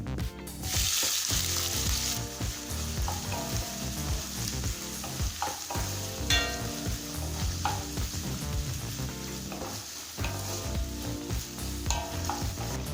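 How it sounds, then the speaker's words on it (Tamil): Continuous crackling sizzle of finely chopped onions frying in oil with cumin and fennel seeds, with occasional soft scrapes of stirring, close and steady with no talking. "வெங்காயத்தை நல்லா கலர் மாற வரைக்கும் வதக்கிக்கலாம்"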